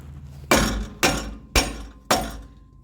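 A block of wood is struck four times, evenly spaced, to seat the catalytic converter pipe on a 2001 Chevrolet. Each blow is a loud, sharp knock with a brief decay, heard near and alone.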